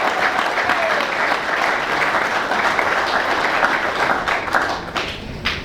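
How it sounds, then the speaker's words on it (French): A crowd applauds women being honoured at an event, with steady dense clapping that carries on throughout. "Et je voudrais qu'on puisse les acclamer."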